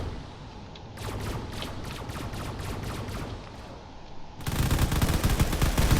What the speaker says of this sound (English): those railguns are definitely tearing apart this frigate